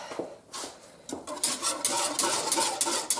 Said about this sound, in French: j'ai envie de fouetter avec un fouet